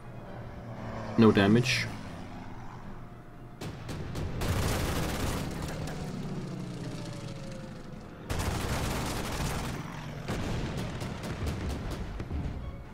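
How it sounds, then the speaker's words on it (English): Strafing attack by a Mustang fighter on an anti-tank gun in Paris, Order of Battle strategy game: bursts of rapid gunfire and explosive impacts rumbling in two long loud volleys, with someone talking briefly before. "Now we have a Mustang attacking my AT gun in Paris."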